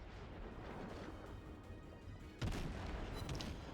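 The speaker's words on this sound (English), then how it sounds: "Let a ranging shot go" A single distant naval gun ranging shot from a cruiser in World of Warships, a dull boom rising out of steady low ambient rumble, faint overall with no speech.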